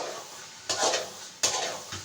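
Grated carrot halwa cooking in desi ghee, stirred with a spoon against the pot: a soft background sizzle broken by two louder scraping stirs.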